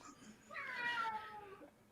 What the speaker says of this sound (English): Man, the cat's going wild there